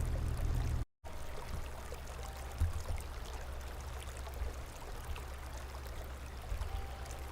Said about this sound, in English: The river kept flowing.